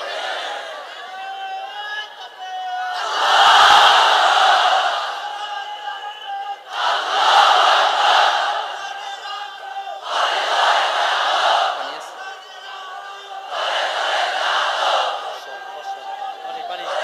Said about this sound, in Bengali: তাকবীর দেয়া যাবে? জোরে না আস্তে? কত জোরে?